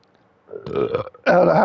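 One close, loud burp in two swelling bursts with a short gap between them, following a quiet start, at the end of a gaming livestream.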